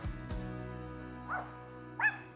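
A dog gives two short, sharp barks about half a second apart over steady background hum, moderately close but not loud.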